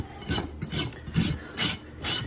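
Repeated rasp strokes across a horse's hoof wall as the outside flare is filed down on a barefoot trim, four or five gritty scraping pulls in a steady rhythm, close and fairly loud with short pauses between.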